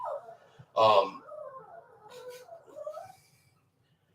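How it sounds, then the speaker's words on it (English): A dog shut out of a closed room whines in faint, drawn-out wavering tones, muffled as if from behind a door, with a person speaking over the start. "don't know if y'all can hear the dog whining because we won't let him in the room"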